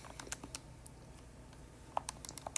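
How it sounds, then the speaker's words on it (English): Quick, light taps on a calculator keypad, a scattered burst of presses early, a pause, then a faster run of clicks near the end, faint and close. "I'm going to type this into a calculator really quickly"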